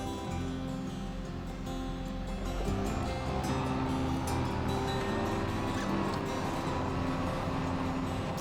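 A Case Puma tractor in a farming video game drives along with a steady, droning engine hum that holds constant throughout, a smooth low rumble with no voices.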